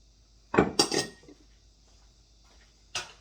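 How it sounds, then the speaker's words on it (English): A spoon scrapes and clinks against a pot while beans are stirred with garlic and salt, several sharp knocks close together and then one more after a short pause, with no talking. "I mix my beans real quick."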